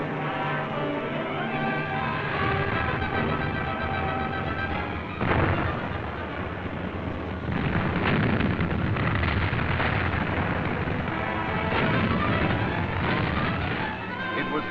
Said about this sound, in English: artillery rained shells on the German-held San Leonardo